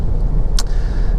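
A Kia Sportage 1.7 CRDi on a road test along quiet country roads gives a steady, close engine and road rumble that holds for the whole moment, broken by one brief high swish.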